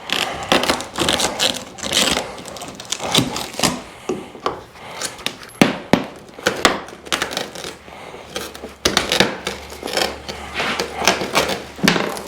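Repeated scraping, scoring and tapping as a piece of glass is cut during a glass install, with close, irregular bursts of rasping and clicking and no talking.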